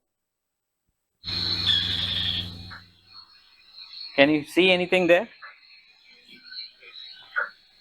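A frog croaks loudly and steadily near a wildlife observer for about a second and a half, a dense rasping call, followed by people talking quietly over faint night ambience.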